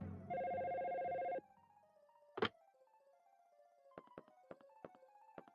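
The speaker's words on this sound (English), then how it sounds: "You set the line to hold, the phone will continue paging automatically." In the Dino Crisis video game, a phone pages with one long electronic ring tone, then gives a sharp clunk followed by a string of faint, quick beeps and clicks.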